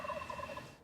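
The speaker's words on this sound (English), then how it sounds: "he is gobbling his brains out" A wild turkey gobbles hard from a knob, a rapid rattling run of several throaty pulses, fairly loud and clear at a distance, with no voices over it.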